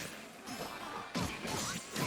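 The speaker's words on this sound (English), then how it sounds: "You just heard the shattering of glass." Glass shatters in a grid break effect during an Under Night In-Birth II tournament match, a couple of bright crashing bursts over busy game audio with faint commentary around it.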